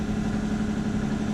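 A Valiant 40 sailboat's inboard engine idles at about 1200 RPM, a steady, loud, close drone with an even low throb.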